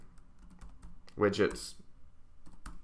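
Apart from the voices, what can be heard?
typing on a computer keyboard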